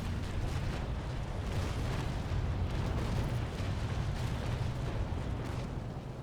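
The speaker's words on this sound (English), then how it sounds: "This is the double charge." A double-charged cannon broadside from a sailing warship in the Naval Action video game booms and rumbles continuously, a dense, sustained roll of low blasts with no talking.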